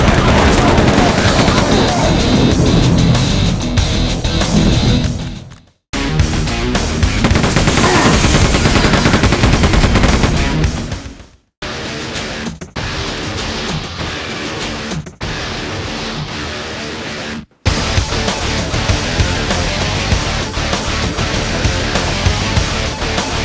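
Loud, driving first-person shooter soundtrack music from Quake 2, dense and full-band, playing in several long segments split by brief abrupt silences, with gunfire-like bursts and heavy percussion throughout.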